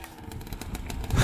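A small Kawasaki KX 65 dirt bike engine buzzes at a steady pitch nearby, building slightly louder at the very end, with no talking.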